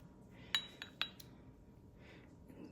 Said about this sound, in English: So I'm just gonna crack the egg.